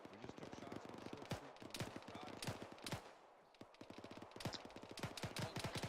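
Rapid bursts of gunfire during an infantry platoon training exercise for the 506th Infantry Regiment, loud sharp shots in quick clusters, some near and some echoing, continuing steadily with only a brief lull.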